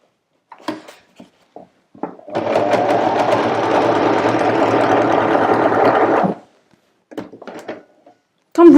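A sewing machine stitches a geometric pattern in fabric, running in one steady, close whir for about four seconds, bracketed by scattered light clicks and handling knocks before and after.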